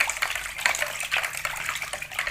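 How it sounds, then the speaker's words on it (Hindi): Water poured from a glass into a homemade village-style lassi mixture makes a steady, close splashing gush that carries on for a couple of seconds with no one speaking. "इसके अंदर हमने 1 गिलास के बराबर पानी और ऐड करना है"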